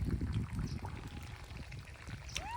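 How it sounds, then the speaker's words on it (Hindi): Water splashes and trickles steadily onto eggplant plants in an outdoor village garden, a soft continuous pouring close by with faint background noise. "अपने प्लांट को पानी डाल रहा है यहाँ पे"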